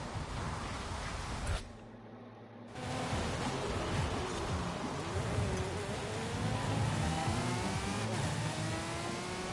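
A video game car engine revs and strains at a steady loud roar with rising and falling pitch sweeps, cutting out briefly before surging back.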